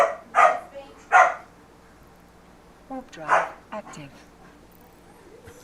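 Dog in the space game Eve Online barks in a few sharp bursts and then whimpers and yips, close and fairly loud, alternating with a voice speaking.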